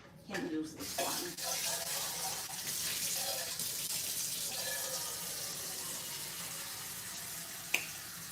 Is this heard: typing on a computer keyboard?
no